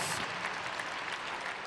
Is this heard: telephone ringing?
no